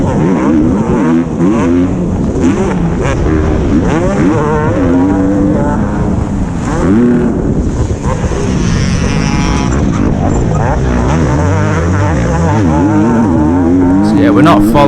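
An MX2 motocross bike racing at an amateur championship round, its engine revving hard and shifting pitch through the laps, loud and close throughout alongside other bikes.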